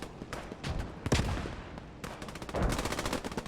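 Machine gun fire in the Post Scriptum video game: rapid bursts of shots rattle in quick succession, loud and close, with short pauses between bursts and no talk.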